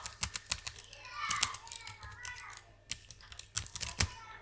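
Computer keyboard typing as personal information is entered into a CV, with quick irregular clicks and bursts of several keystrokes, close and moderately loud, with faint background voices.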